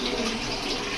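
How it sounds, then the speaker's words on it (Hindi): Running water splashing steadily as moong dal lentils are rinsed in a kitchen, a continuous broadband wash close by with no talk over it. "मूंगी की दाल को जी धोए जा रहे हैं"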